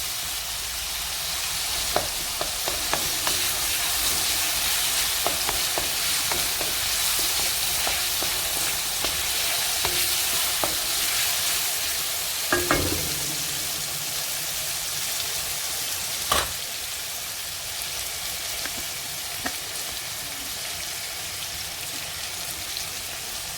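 Spring onions and garlic ginger paste fry in a pan for a chicken curry, giving a steady, dense sizzle with scattered pops and occasional stirring scrapes, close and continuous with no voices.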